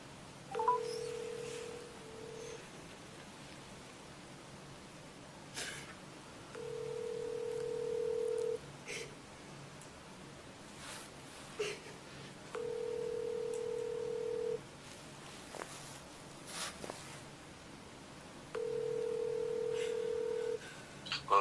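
Phone call to an attorney ringing out: four evenly spaced ring tones with long pauses between, steady and clear, with a few faint clicks and no talk.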